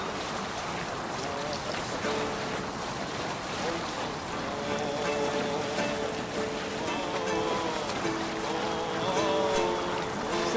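A Viking longship setting sail across open sea in Assassin's Creed Valhalla, a steady wash of waves, rushing water and wind filling the scene continuously, with a voice talking over it.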